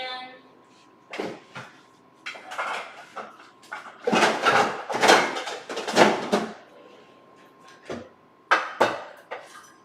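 A metal cupcake pan is handled in a home kitchen, with a series of clattering knocks and scrapes in irregular bursts, loud and close, and a voice speaking briefly between them.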